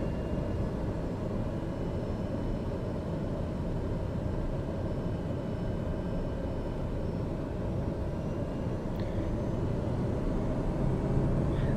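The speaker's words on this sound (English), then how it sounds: "our landing gear and flaps are going down. We're dropping in speed here." A steady, loud engine drone with rushing wind from an airplane in Microsoft Flight Simulator, making a landing approach with gear and flaps down. The roar stays even throughout and no one speaks.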